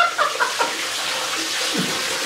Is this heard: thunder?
no